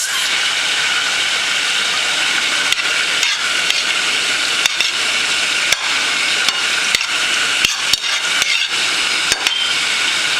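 Sliced mushrooms and garlic sizzling on low heat in a pan, a steady, even hiss of frying broken by occasional small pops and crackles, with no voices.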